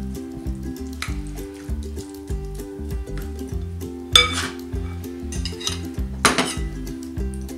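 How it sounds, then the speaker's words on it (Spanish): Vanilla, oil and spices stirred together in a bowl for an egg-free, dairy-free carrot cake, with a spoon clinking and scraping against the bowl in quick, uneven taps over steady background music. "Mezclaremos un poco para que se integre todo."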